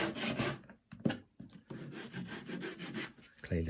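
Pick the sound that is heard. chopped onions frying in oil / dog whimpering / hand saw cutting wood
hand saw cutting wood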